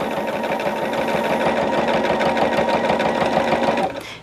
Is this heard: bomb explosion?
no